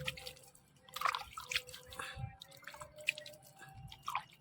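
Water poured onto coriander plants grown without soil, heard as irregular close drips, splashes and small wet trickles, fairly quiet, with a faint steady hum underneath.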